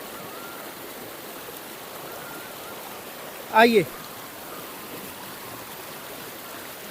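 A forest river at Janki Kund in the Chitrakoot jungle flows with a constant broad rushing wash, steady throughout, with a short spoken word cutting in briefly midway.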